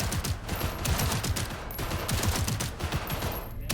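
Rapid automatic pistol fire in Cyberpunk 2077 rattles out in a dense, continuous burst of shots that stays loud and sustained throughout.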